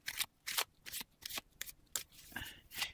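Tarot cards are shuffled by hand in quick riffling bursts, roughly eight short papery rustles in an uneven rhythm, close and fairly quiet, with no talking.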